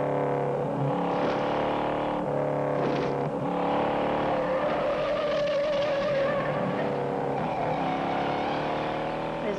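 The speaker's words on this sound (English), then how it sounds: "Steve McQueen, Bullet, brilliant movie, the best damn car chase ever made." Cars race and tire-squeal through the San Francisco streets in the Steve McQueen film Bullitt, engines revving and skidding loudly in repeated surges, close and unbroken with no voices.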